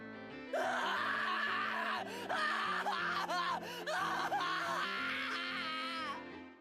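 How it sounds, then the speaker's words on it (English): A Higurashi When They Cry character screams and wails in several long, strained, voiced bursts, loud and close, with brief breaks between cries and no other talk. "I fought them back with a scream of my own"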